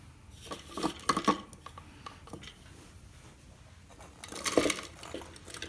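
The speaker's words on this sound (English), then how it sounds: "put the mixing blade into your food processor and put all the soap back in" Shredded soap is dumped into a food processor bowl in a few soft rattling, pattering bursts, quiet and close, with a pause between pours.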